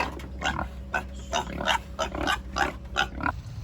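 Pigs on a pig farm grunting and oinking in a rapid, irregular series of short snorts, fairly close, over a steady low background hum.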